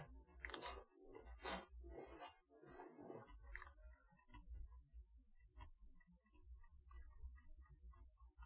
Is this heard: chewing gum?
yes